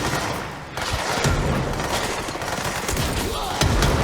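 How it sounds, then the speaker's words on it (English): A volley of rockets fired all at once in the video game Control sounds as a dense, loud burst of overlapping blasts and booms sustained over a few seconds. "You can hold down the button to fire every rocket at once."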